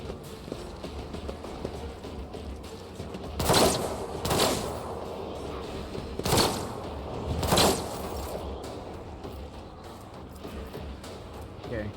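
Bursts of gunfire in Warhammer 40,000: Rogue Trader, four sharp loud volleys spread across the span over a steady bed of game ambience and voices.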